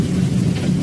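Heavy rain hisses steadily with a dense low rumble that suggests thunder, loud and continuous through the brief moment with no voices.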